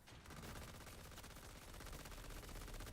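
Dense automatic gunfire from the video game Borderlands 4, a steady rapid stream of shots that stays loud and continuous from start to finish.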